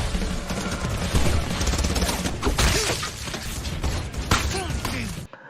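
Gunfire erupts in a movie shootout from Crank (2009), dense bursts of shots and crashing impacts that blend into a loud, chaotic barrage before the sound cuts off abruptly.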